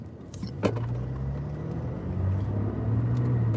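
A truck engine hums steadily while driving, a low continuous drone with rising pitch as it accelerates, close and fairly loud with no talk.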